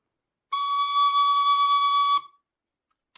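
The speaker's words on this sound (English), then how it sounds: "C sharp is all fingers off on the tin whistle." A tin whistle sounds a single sustained C sharp played with all fingers off, a clear, steady high tone held for under two seconds, then silence and a faint click.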